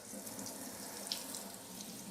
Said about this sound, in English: So you just need to wash them down with fresh, clean water.